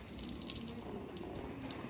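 Water pours over feet with a steady, close splashing gush, like a running tap, at moderate loudness and continuous throughout.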